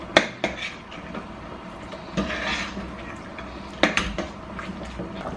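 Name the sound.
peanuts being added to boiling corn soup in a pot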